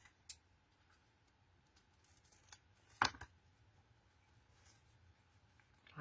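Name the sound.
scissors cutting card into banner tags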